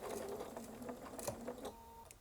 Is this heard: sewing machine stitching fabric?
yes